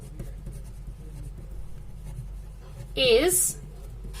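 Chalk or marker scratching across a board in a physics lecture on matter and radiation, a low steady scraping under a lecturer's voice, with a brief louder squeaky stroke near the end.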